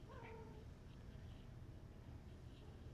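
A pet cat named Coco, a female, gives a short, faint meow at the very start, heard indoors over a low, steady background rumble.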